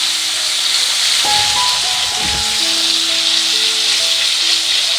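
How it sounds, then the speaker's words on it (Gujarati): Chopped tomatoes sizzling in a pan over a low flame, a steady hiss with a brief stirring clatter partway through and some faint tonal hum in the background. "તેને પણ સહેજ એવા મિક્સ કરી અને સોફ્ટ થાય એટલા સાતળવાના છે."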